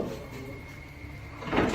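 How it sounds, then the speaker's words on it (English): Something pounding against a locked set of doors and rattling them: a low rumbling, shaking clatter that swells again near the end, with muffled voices faintly in the background. "something pounds against the door and then rattles it"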